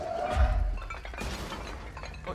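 Objects shatter and crash as a pursuing entity smashes through everything in its path in the video game Control, a loud breaking burst followed by scattered debris clattering, with no speech.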